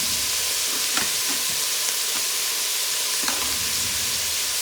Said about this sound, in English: I'm just going to stir this up a little, the garlic